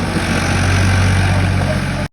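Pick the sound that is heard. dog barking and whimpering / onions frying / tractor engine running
tractor engine running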